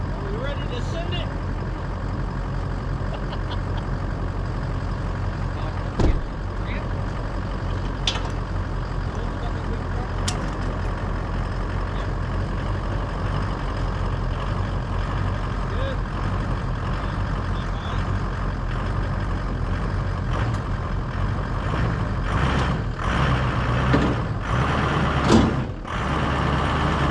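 Ford F350 truck engine labouring up a steep incline on rough ground, a steady low rumble running throughout with occasional knocks and clunks from the chassis, and people talking over it.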